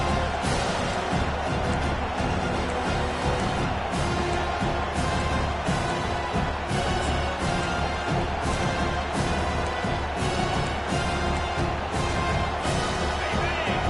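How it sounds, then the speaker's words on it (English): A packed football stadium crowd at an Oklahoma at Arkansas college game roars continuously at full volume, a dense, sustained wall of cheering with surging swells and no break. "This crowd, full throat, spreading the eardrums and letting them know it's going to be a long day."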